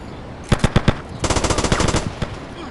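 In GTA Liberty City Stories gameplay, a short group of four sharp gunshots comes first, then after a brief pause a longer rapid burst of automatic fire, loud and up close with no speech.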